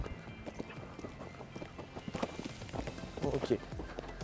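Horse cantering over uneven ground in an arena, a mare moving through rises and dips, its rhythmic hoofbeats soft and close under a speaking voice.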